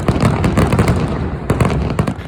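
Aerial firework shells burst in a continuous crackling barrage, dense loud pops and bangs overlapping throughout with sharper explosive peaks, no voices heard.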